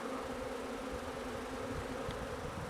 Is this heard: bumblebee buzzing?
yes